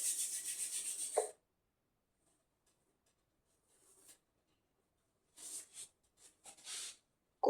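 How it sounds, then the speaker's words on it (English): Hands rubbing together during a yoga session, a dry, bright friction sound in one sustained burst, then a quiet pause and several shorter rubbing strokes, close and clear. "Rub your hands on your eyes."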